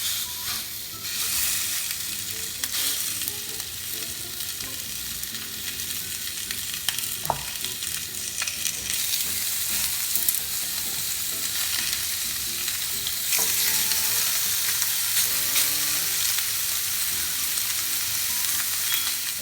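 Six bone-in, salted pork chops sizzle on a grill pan, a steady, bright hiss that builds slightly and continues throughout, with a few brief clunks and scrapes.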